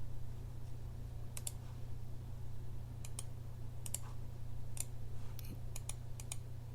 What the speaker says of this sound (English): I guess it's not silent because there's clicking